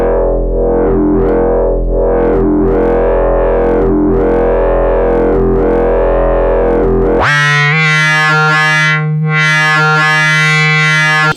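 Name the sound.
synthesizer with Instruō cnōc controlling filter cutoff frequency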